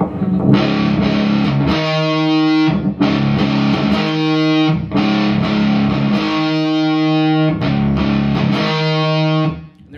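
A distorted electric guitar plays an octave with the middle D string muted, struck in several sustained, buzzing repeated strums with brief gaps between them, loud and close.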